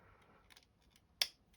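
A plastic part of a Darth Vader model kit snaps into place with a single sharp, close click, preceded by a few faint handling taps in a quiet room.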